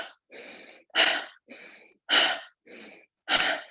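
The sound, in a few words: rhythmic exhaling breath pulses during yoga breathing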